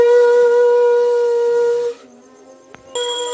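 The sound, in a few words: conch shell blown during puja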